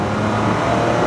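A Ford Ranger Raptor's twin-turbo V6 petrol engine, a steady, loud, close engine roar held without a break.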